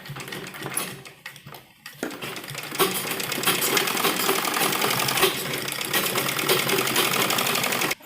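A sewing machine stitches right along the edge of a lined, embroidered suit. The stones were removed from the embroidered design beforehand. Close, fast whirring runs in short bursts with brief pauses at first, then settles into a long, steady, continuous run.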